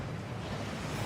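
A waterfall in the video game Hogwarts Legacy: a dense, steady rushing roar of falling water, broadband and unbroken, fairly loud, with no voices.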